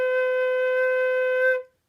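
A single sustained flute note B from a beginner lesson, steady and clear for about a second and a half before stopping cleanly, played alone with no talking.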